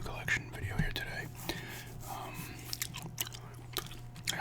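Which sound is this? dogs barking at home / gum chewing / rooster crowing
gum chewing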